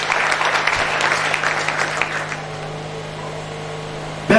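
A church congregation claps for Jesus during a sermon, a dense burst of loud applause that fades over a few seconds into quiet room hum before a short noise at the end.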